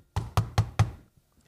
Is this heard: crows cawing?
no